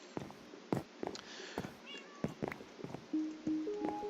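Several cats meow in the Minecraft video game, short separate calls spread across the clip, with game background sounds and a few tones behind them.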